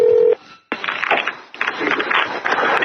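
A telephone call is placed on a taped phone line: a steady dial tone cuts off, then a series of clicks and noisy line sounds follow, loud and close.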